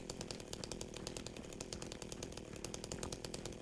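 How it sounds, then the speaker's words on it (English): A chainsaw buzzes steadily in a Silent Hill–style horror video game, a rough, rapidly pulsing motor drone that stays fairly quiet and continuous, with no talking. "I love the idea that he's just pulling a chainsaw out of his pocket."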